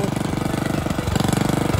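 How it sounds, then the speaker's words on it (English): A mini tractor engine chugs in a rapid, even rhythmic pulse while forming raised beds in a tomato field, loud and close, with no talk. "Now we are running this tractor, mini tractor, to make the raised bed"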